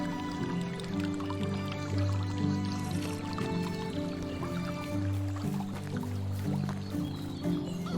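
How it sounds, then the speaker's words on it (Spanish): A character drinks water in the medieval survival game Medieval Dynasty. Liquid gulps and sloshing are heard over a steady low musical drone, continuous and fairly soft. "Voy a beber agua."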